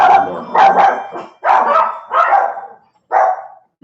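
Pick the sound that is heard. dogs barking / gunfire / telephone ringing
dogs barking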